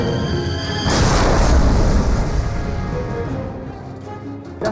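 A Panther tank's long-barrelled main gun fires once with a heavy, close boom, followed by a long rumbling decay that fades over several seconds.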